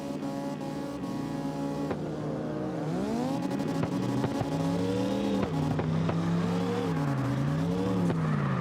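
Drift cars at open practice in the CarX racing game, engines revving and wailing in rising and falling sweeps as the cars slide past, with no talking.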